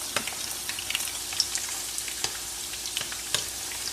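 Chicken meatballs frying in oil in a pan, a constant close sizzle broken by sharp crackling pops and spits scattered through it.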